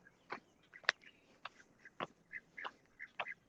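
Peking duck quacking in a farmyard, a series of short, nasal calls spaced irregularly at close range, each fairly loud against quiet surroundings.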